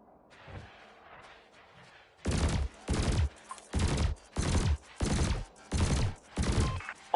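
Weapon fire hits canisters in the space combat game Elite Dangerous: after a quiet start, seven evenly spaced, loud bursts of rapid gunfire, each lasting about half a second, with a regular rhythm.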